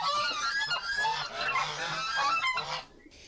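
Territorial geese patrolling the strip between a prison's outer wall and yard fence honk loudly and continuously, several birds calling over one another for about three seconds before the racket drops away near the end.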